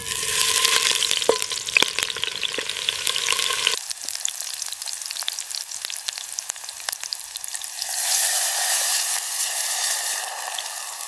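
Chicken tinola cooking outdoors, with a steady sizzle and stirring throughout, frying crackle strong at first, then a quieter bubbling simmer before the sizzle swells again near the end; no talking.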